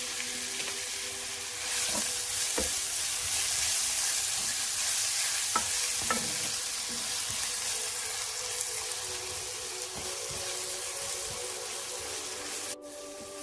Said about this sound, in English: heat a 1/4 cup of oil over medium heat. Add 2 chopped onions and sauté until translucent